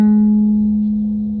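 A single plucked ukulele note, fretted at the first fret of the G string, rings out clearly and alone, sustaining steadily with bright overtones and slowly fading.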